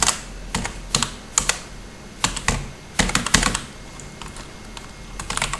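Keys clatter on a computer keyboard as C++ code is typed, in short irregular bursts of clicks separated by brief pauses, close and fairly crisp with no voices.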